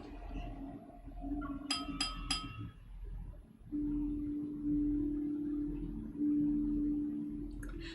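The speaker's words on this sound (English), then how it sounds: "the crisp sound of clinking glasses captures everyone's attention" Wine glasses clink at a banquet aboard a ship in a video game: three quick, bright chimes close together early on, followed by a low sustained tone.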